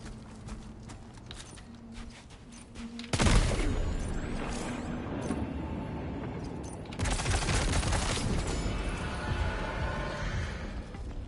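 Gunfire from Death Stranding 2: On The Beach gameplay: a loud sustained burst of shots breaks in after a quieter stretch of clicks, then a second long burst follows, both close and dense over continuous background noise, with no talking.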